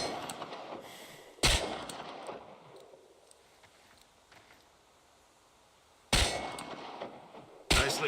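Gunfire at a target practice range in the video game Chernobylite: three sharp, loud single shots spaced seconds apart, each a sudden crack with a brief ringing tail, separated by quiet stretches of faint ambience.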